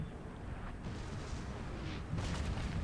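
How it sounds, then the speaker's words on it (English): Artillery fires from both sides in a video game battle, a series of distant, muffled booms and bursts rolling under the battlefield noise, with a stronger blast toward the end. "Artillery fire on both sides, causing minor disruption"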